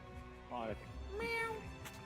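A cat meows twice in quick succession, close by, with bright rising cries heard over people chatting in the room.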